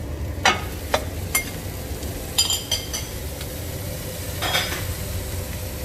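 Meat frying with onions in a hot pan, a steady sizzle under sharp clinks and scrapes of a utensil stirring against the pan, close up with no talking.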